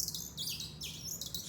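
Bright, high-pitched bird-like chirps in quick repeated bursts, close and clear with nothing else over them.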